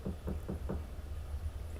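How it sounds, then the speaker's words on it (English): Someone knocks on a door four times in quick succession, a muffled, fairly close rapping, followed by a low steady background hum. "you heard someone knocking on the door"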